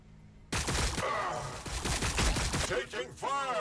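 Rapid bursts of gunfire from a Warhammer 40,000: Battlesector battle between Tyranids and Blood Angels, beginning abruptly after a quiet moment, with dense crackling shots and a sweeping tone near the end.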